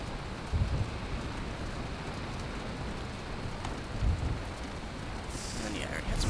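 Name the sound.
rain in Valheim video game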